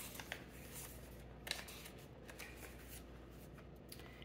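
Papers and photographs rustle and shuffle as they are handled and tucked into a small sample journal. The crinkles are soft and close, with a few sharper flicks.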